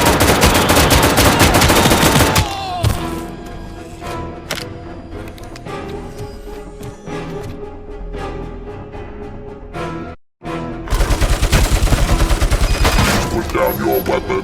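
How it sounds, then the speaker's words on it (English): ED-209 in RoboCop: Rogue City lets loose loud, dense bursts of heavy machine-gun fire with shattering impacts, then a quieter stretch of scattered shots and clatter before another long roaring volley. "I am under attack from Ed 209."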